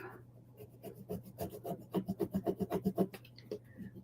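Foil is scraped onto a glittered wooden reindeer in quick, rhythmic back-and-forth rasps that speed into an even run of strokes, close and clear, with no talking.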